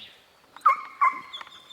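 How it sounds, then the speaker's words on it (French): A sled dog on a mountain trail gives a few short, high yelps and whines, two clear close cries followed by a softer one, with a faint bird-like tone in the background. "Il n'y a pas longtemps qu'il fait le chien de traîneau."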